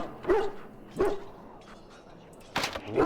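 Hounds bark in the kennels of the video game Dragon Age: Origins, three separate bursts spaced across a few seconds at moderate loudness, with no talk.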